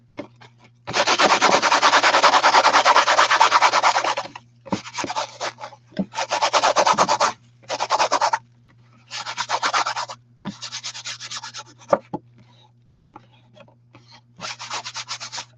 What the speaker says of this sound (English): keep rubbing at it until you get all the salt off